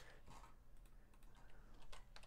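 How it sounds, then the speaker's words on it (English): Keys on a computer keyboard are tapped in quick, uneven bursts, close and fairly faint, with no talking. "we'll see how good I am at typing today"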